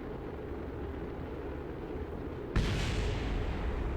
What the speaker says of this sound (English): As more of these parts blow up